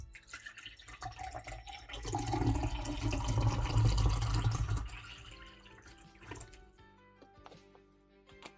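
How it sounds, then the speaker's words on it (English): Water pours steadily into a container, a close rushing stream that swells and then trails off into scattered drips, with music playing faintly underneath. "Time to pour up a little water."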